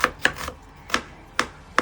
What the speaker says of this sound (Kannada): ನೋಡಿ, ಕ್ಯಾರೆಟ್ ಈ ಥರ ಕಟ್ ಮಾಡಿ